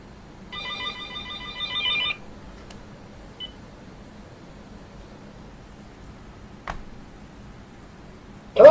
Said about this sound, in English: Look at the fucker, he's calling again.